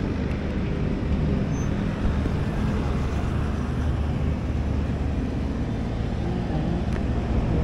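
Road traffic passing along the Pasig River esplanade in Pasig, a dense steady low rumble of vehicles with wind noise, continuous and fairly loud, no distinct single pass-bys.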